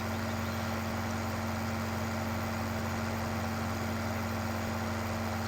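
A modded vehicle engine idles in Farming Simulator 15, giving a constant low droning hum that stays level and unbroken throughout.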